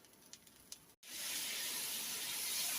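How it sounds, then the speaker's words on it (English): Butter hitting a hot pan coated with browned drippings from cubed steak, as a gravy base, sets off a loud, steady, close sizzle that starts abruptly after a brief quiet stretch with faint clicks and holds evenly to the end, with no voices. "Now we're going to add some butter."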